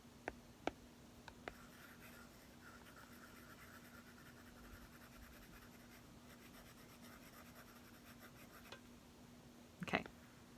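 A stylus writes on an iPad screen in Procreate, with faint soft scratching strokes over a low steady hum, a few sharp taps at the start and a louder clatter near the end.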